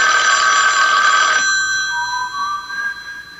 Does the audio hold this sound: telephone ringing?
yes